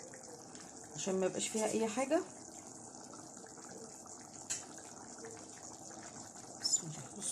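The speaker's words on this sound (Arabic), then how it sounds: "صفي لها كبشه شوربه كمان صغيره" Strained soup broth is ladled into a chicken and peas dish, a brief splashing pour of liquid lasting about a second, with someone speaking nearby and faint kitchen clinks afterward.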